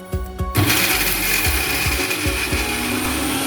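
A mixer grinder whirs loudly and steadily up close as it grinds mango and coconut pieces for chutney, with a few knocks at the start before the motor settles into a continuous drone.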